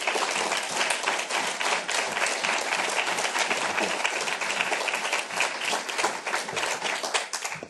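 An audience at a launch event applauds steadily as Ambassador Dennis Ross is welcomed, a dense, even wash of clapping that holds at full strength for the whole stretch.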